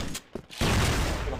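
Sniper fire in a first-person shooter video game, a few sharp reports followed by a loud, dense burst of gunfire and clatter that fills the last second, close and harsh.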